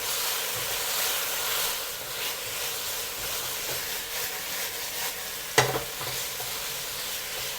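Chicken sizzles and hisses while being stir-fried in a wok for black pepper udon, a loud, continuous frying noise close up with a sharp clatter near the end.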